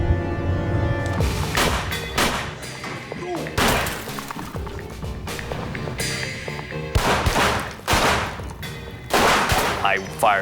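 Gunfire in a reenacted shootout, a series of loud sharp shots and bursts fired through a shared wall, close and irregularly spaced with crashing impacts between them.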